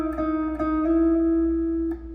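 A guitar note picked and slid up the G string, from a tutorial on a song: a steady, ringing tone with a few soft re-attacks that sustains alone for about two seconds.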